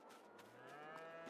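Cows mooing in the farming video game Farming Simulator 22, one long, low, drawn-out moo, fairly faint and clear, with no talking.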